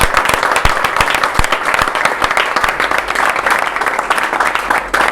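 A large audience at a FESENA union congress applauds continuously, dense hand-clapping filling the hall at a loud, steady level throughout.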